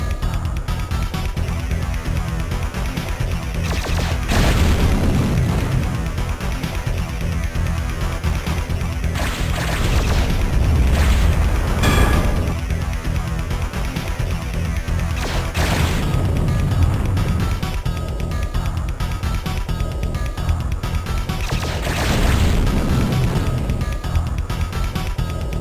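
Missiles launch and blow up again and again in the video game Terminal Velocity, loud booms and crashing bursts arriving every few seconds over a constant roar of engine noise and music.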